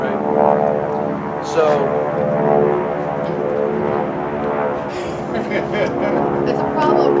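Small propeller airplanes drone overhead in Monterey, California, a steady engine hum that swells and fades beneath continuous outdoor talk from several people.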